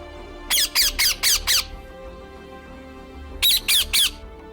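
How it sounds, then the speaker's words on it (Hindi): A parrot gives two bursts of shrill, rapid squawks, five quick calls then a pause and three more, loud and close over a faint background hum. "अंग्रेजी में बोले तो पैरट। हाँ, वही पक्षी जो टाई टाई करता है।"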